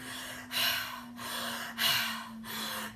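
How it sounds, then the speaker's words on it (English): Deep, forceful breaths repeated in a steady rhythm, three long noisy inhale-exhale cycles close to the mic, with a constant low hum underneath and no talking. "I'm literally breathing like this for 6 solid hours"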